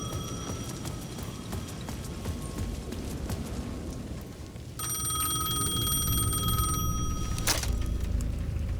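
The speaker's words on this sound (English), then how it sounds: "The payphone at the edge of the plaza was ringing again." A payphone rings in the video game Alan Wake 2, a repeating electronic bell that begins partway through and sounds close and clear over a low, rumbling ambient background.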